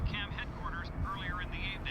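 A helicopter's steady rotor drone hums in the background of a news broadcast in the video game F.E.A.R., low and continuous beneath a reporter's speech.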